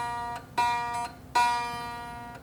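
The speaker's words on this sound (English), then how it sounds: "a lot of that noise is due to the string just vibrating inside of that slot" A guitar B string plucked in a worn, too-wide nut slot, two bright ringing notes each decaying with a faint buzzy edge, close and alone.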